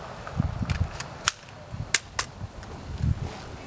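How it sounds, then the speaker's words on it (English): A USGI EPM magazine is seated into an M4-type rifle, giving a few sharp, close metallic clicks and snaps amid faint handling noise, with no talking. "So check it out, make sure it locks in here okay."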